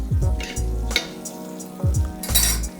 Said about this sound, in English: Mushrooms are cooked through, and add a little bit of cream.